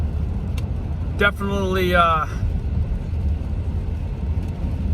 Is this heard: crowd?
no